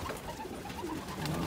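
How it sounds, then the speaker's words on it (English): Pigeons in a loft holding mixed breeds, including German, Polish, Italian owl and carrier pigeons, coo softly and repeatedly against a steady background hum, with no talking. "You got World War I carrier pigeons."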